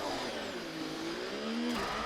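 An F1 car in the F1 24 racing game at Monaco revs hard under heavy throttle, a loud sustained engine whine climbing in pitch before a brief lift and renewed rise, with no voices.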